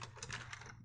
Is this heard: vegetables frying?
no